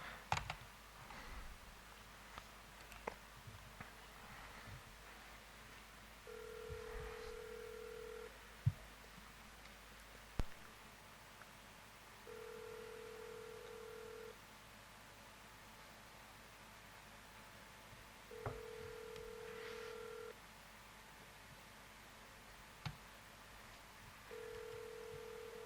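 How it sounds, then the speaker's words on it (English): An outgoing VoIP phone call sounds through a computer: faint keypad tones and clicks at the start, then a steady ringback tone repeating at regular intervals over a soft background hiss. "I'm just going to call you with that number now"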